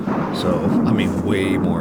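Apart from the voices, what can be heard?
thunderstorm thunder in Ark Survival Ascended video game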